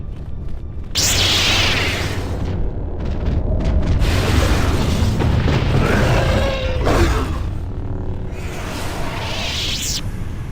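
In the video game KOTOR 2, lightning gloves attack with a burst of crackling, hissing electrical discharge, loud and sustained for several seconds between whooshing bursts.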